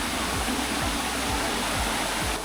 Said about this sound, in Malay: Dan kita akan jumpa mini ayak terjun dekat sini.